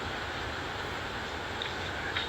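A freight train rolls past the 11th Street CP line crossing on the Beltline, producing a steady, loud rumble with continuous broadband rail noise and a few faint high squeals near the end.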